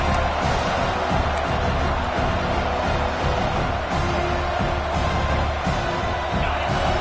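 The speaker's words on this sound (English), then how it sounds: "Listen to the crowd energy here in the early going." A college football stadium crowd at Florida versus Arkansas roars in a loud, continuous wash of noise, with swelling bursts of cheering rising over the din.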